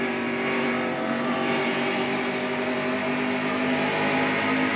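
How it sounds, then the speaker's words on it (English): Harry Gant's stock car racing engine at the 1989 AC Spark Plug 500, a loud, steady droning roar held throughout without pauses or voices. "Let's listen to the places where Harry is on and off the accelerator for a few minutes here."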